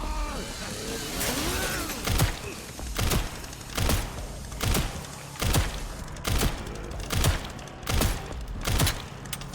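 Repeated gunfire in the Resident Evil 9 video game, about nine sharp shots spaced roughly a second apart, loud and close, over a rumbling game soundtrack of engine-like drones.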